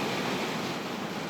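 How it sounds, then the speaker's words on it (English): Heavy rain drums steadily on the roof of a static caravan during a summer rainstorm, a dense, loud, unbroken hiss with no voices. "That's the downside of being inside a static caravan during a rainstorm. It gets so noisy."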